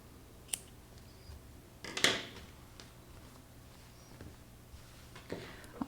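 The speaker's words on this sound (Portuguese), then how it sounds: "depois você pode cortar." Scissors snipping thick yarn on a knitted hat, a few quiet separate cuts with soft handling noises between them.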